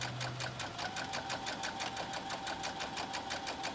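A sewing machine stitches a quilted tote bag made from a June Tailor placemat kit at a regular 2.5 stitch length, with steady, rapid, evenly pulsing needle strokes running close and continuous throughout.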